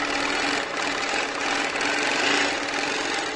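A sewing machine stitching slowly and cautiously with the needle stepped down and up, giving a steady close mechanical whirr and rapid clatter that runs continuously without voices.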